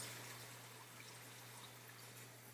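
Running water in a kitchen, a faint steady hiss of tap flow over a constant low electrical hum, continuing evenly without interruption or talk.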